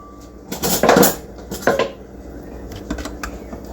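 Mayo and sriracha being stirred in a bowl, with a few sharp clinks and scrapes of utensil against dish in short bursts, then quieter taps; no talking.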